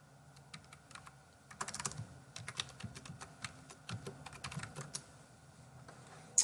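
Password typed on a computer keyboard, a quiet, uneven run of individual key clicks with faint room hiss and no talking.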